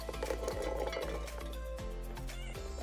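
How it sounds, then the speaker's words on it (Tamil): Soaked chickpeas go into a mixer grinder jar, making soft clinks and rattling taps against the jar, a few distinct knocks over a steady background hum, fairly faint. "ஊற வச்ச கொண்டக்கடலைய மிக்சி ஜார்ல சேர்த்துக்கலாம்."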